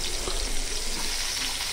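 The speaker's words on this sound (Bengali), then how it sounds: "এবার ওই তেলেই দিয়ে দেব আবার আলুও ভেজে নেব" Potatoes frying in hot oil, a steady dense hiss and crackle close up, with no voice over it.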